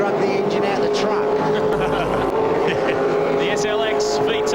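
Holden Commodore V8 Supercar race cars at Barbagallo in a 1999 championship race, engines droning loud and steady through the whole stretch, with a race commentator talking over the roar.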